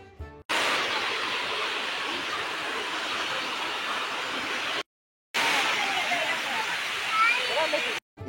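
Keralamkundu waterfall in Malappuram, Kerala, a loud steady rushing roar of falling water, close and continuous, broken by two short cuts of silence.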